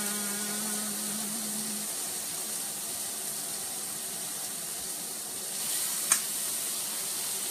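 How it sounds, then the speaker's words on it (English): Steak searing in a hot pan gives a steady, broadband sizzle that hisses continuously at moderate level throughout, with a brief low hum early on and a small clink near the end. "Very sizzly in case you couldn't tell."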